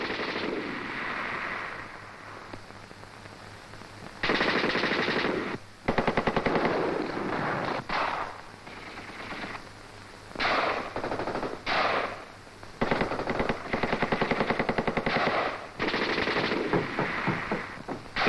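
Machine gun and tank fire during an infantry assault, long loud bursts of rapid automatic fire broken by short pauses, with a steady rumble underneath.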